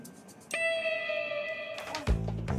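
A coin dropping onto the floor gives a single bright metallic ding that rings on for about a second, followed by a lower clunk as it settles.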